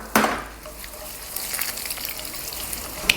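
Crushed garlic and whole spices such as cumin, curry leaves and broken Guntur chillies sizzle in hot oil for a South Indian tamarind rasam, with a sharp hiss at the start and a steady crackling fry after it.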